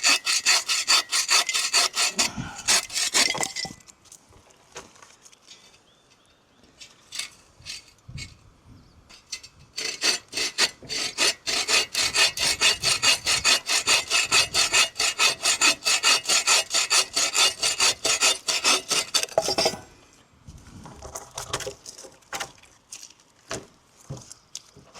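Wood being hand-sawn into campfire lengths at a riverside camp, a steady back-and-forth rasp of strokes running for about fifteen seconds between shorter bursts, close and loud.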